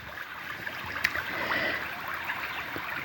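Gentle river water flows and trickles steadily nearby, a soft continuous wash with small splashy bubbles and no voices.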